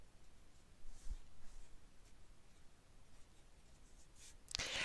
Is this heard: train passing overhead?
no